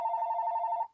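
A phone ringing indoors, a single steady electronic ring tone held for about a second before cutting off, clear and alone with no talk.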